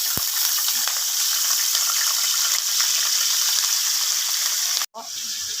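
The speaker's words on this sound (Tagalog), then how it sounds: "Ipa-fry lang po natin yung ating chicken." Chicken pieces fry in hot oil in a pan with a loud, dense, continuous sizzle. A brief clatter comes near the end, and there is no talking.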